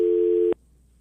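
Steady, loud telephone busy tone hums alone for about half a second after a radio call-in caller is cut off the line, then stops abruptly, leaving faint room hiss.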